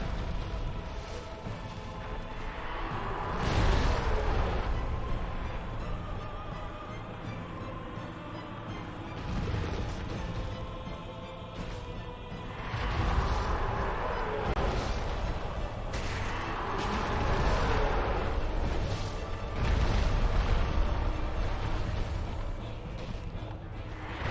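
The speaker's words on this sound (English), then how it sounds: "See there, the attack that the Gaping Dragon is doing to Knight Lordran" The Gaping Dragon attacks a knight in Dark Souls, heavy crashing impacts and rumbling blasts in repeated surges over a dense, roaring game soundscape.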